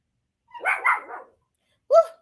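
Dogs bark nearby in a short burst of several quick barks, then a single sharper bark after a brief pause, with no talking.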